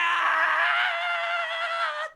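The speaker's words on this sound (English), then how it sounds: "The scream was definitely Yuichi." A single sustained scream from the character Yuichi in the PS1 game Misfortune rings out loud and close, a held, strained cry lasting about two seconds before cutting off abruptly.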